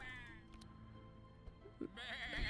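Sheep bleat in a video game, one wavering bleat at the start and another at the end, over a steady low game background hum.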